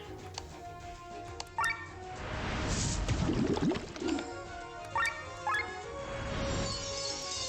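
Water shot item being used in the game Chained Echoes, a burst of watery dripping and plopping effects with glassy clinks, building in the middle of a soft game soundtrack.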